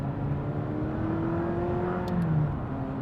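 Steady engine drone from a 2016 McLaren 540C on the move, a continuous loud whir with rising and falling tones as the car cruises behind slower traffic.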